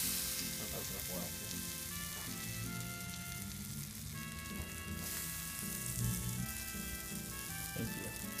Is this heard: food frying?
yes